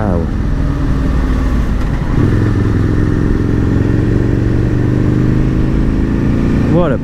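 Aprilia RSV Mille R motorcycle ridden at speed on the Isle of Man, a loud, steady engine roar heard close from the rider's position with rushing wind, climbing in pitch as it revs near the end.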